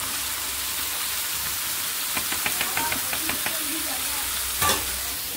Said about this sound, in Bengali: ডালটা বাগার দিই